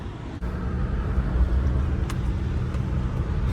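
A car pulls up near a campsite at Canada's southernmost point, a steady close engine and tyre rumble that holds at an even level for a few seconds.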